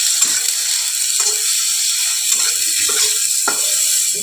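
Dried chili, chopped onion and turmeric fry in hot oil for an aloo bharta, a steady close sizzle with faint scraping and crackling throughout, no voices.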